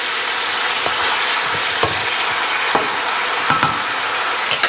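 Pork chops sizzle in a skillet with a steady, bright frying hiss, broken by occasional soft clicks and pops as the meat settles against the pan, close up with no talking.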